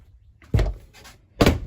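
An RV bathroom door is moved open and shut, giving two sharp wooden thunks about a second apart with a faint rattle between them, close and alone in a quiet room.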